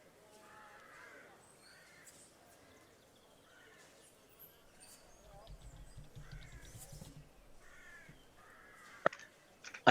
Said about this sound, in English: You hear a murder of crows in the distance.